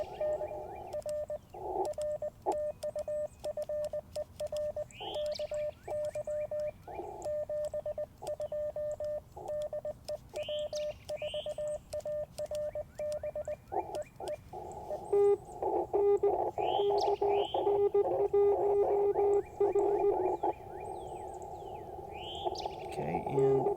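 Morse code from an amateur radio station keys out steady tone dots and dashes at an even pace for most of the stretch, with faint chirps and other tones layered over it.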